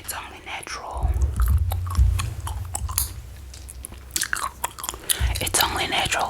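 Gum chews wetly and crunches close to the ear in steady, repeated bites while a soft voice whispers over the top throughout.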